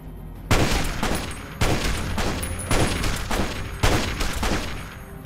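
Gunfire in the video game Fallout New Vegas: four loud, sharp bursts of rifle fire roughly a second apart, each trailing into a dense rumbling echo with no talking.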